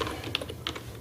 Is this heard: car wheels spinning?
no